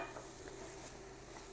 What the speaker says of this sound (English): Now give this a really good mix. Keep it cooking.